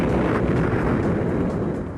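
An A-10 Thunderbolt's aircraft gun fires a loud, sustained roaring burst that lasts about two seconds and fades slightly at the end.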